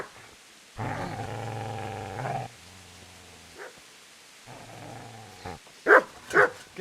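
A dog in the video game Kingdom Come: Deliverance gives a long, low rumbling growl, then short, loud barks near the end, with quiet gaps between.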